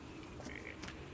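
A frogified player character in the video game Let It Die lets out a quick pair of close croaks, alone and without speech.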